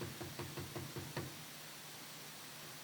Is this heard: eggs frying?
no